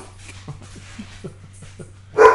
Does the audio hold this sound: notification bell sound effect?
no